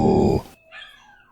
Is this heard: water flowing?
no